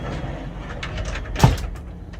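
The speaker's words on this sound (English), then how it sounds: "you do have to take these little doors to open and close your room" A small sliding door of a cheap Bangkok hotel room slides and bumps shut, a brief close rumble with one sharp knock, near and fairly loud, no talking.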